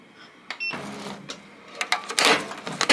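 An embroidery-style sewing machine started on foam, with a mechanical whir, clicks and irregular clattering knocks that grow louder and busier toward the end as the needle breaks.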